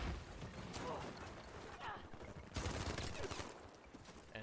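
Rapid bursts of gunfire sound during a competitive Battlefield V match on PS4, crackling in clustered volleys with a louder barrage near the end, while a commentator talks over it.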